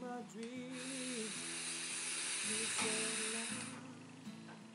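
A Vaporshock Silence dripper atomizer coil sizzles during vaping, a soft continuous hiss that swells and fades over a few seconds with a faint low hum beneath it.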